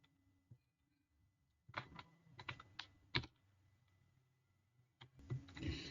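Captcha being typed on a computer keyboard: bursts of crisp, close key clicks with a steady rhythm and short pauses, heard alone in a quiet room.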